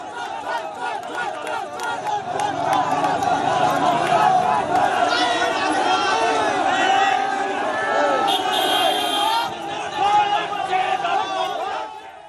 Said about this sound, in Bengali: সেখানে বিজেপি তৃণমূল স্লোগান পাল্টা স্লোগান